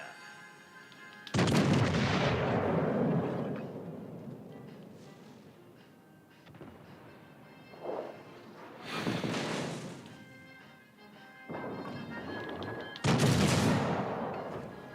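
Naval guns of a warship firing in World of Warships: Legends, several heavy booming salvos spaced a few seconds apart, each with a long rumbling tail.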